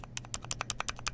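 A run of sharp, plasticky clacks from the enter key of a GMMK Pro mechanical keyboard fitted with Rainforest keycaps, about a dozen evenly spaced presses, close and clear with no talking.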